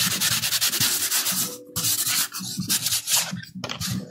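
Sandpaper rubs back and forth across a painting board, a loud, close, steady rasping in quick repeated strokes with a couple of brief pauses.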